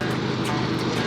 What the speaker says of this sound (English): That's the train. It goes by like 5 times a day.